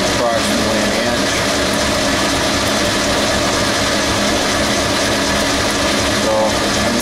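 A metal lathe spinning at roughly 500 RPM, cutting about an inch of stock, gives off a steady, dense machine hum and whir. The noise is constant and fairly loud, with no spoken voices.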